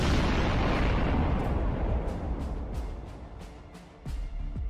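The French destroyer Bison blows up after a Stuka dive-bomber's bomb strikes her, a loud sustained roar of explosion that slowly fades, followed by a series of sharp secondary blasts and bangs toward the end.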